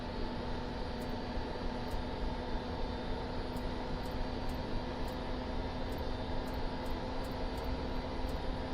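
Helicopter engine in Microsoft Flight Simulator 2024 spooling up as the throttle is rolled up, a steady dense broadband turbine roar with a constant whine and faint periodic high ticks, no voices.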